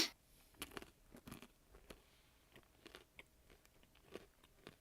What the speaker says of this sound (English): Can you hear me chewing?